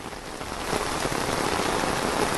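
Steady rain pours down outdoors during a day-long downpour in Uttar Pradesh or Rajasthan, a dense, even hiss of drops that swells slightly after the first moment and holds loud and continuous with no voices.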